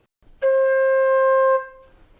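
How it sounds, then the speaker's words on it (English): A single sustained flute tone on the note C, held steady for about a second with a clean attack and a gentle fade, played alone close to the listener. "So our first note is C."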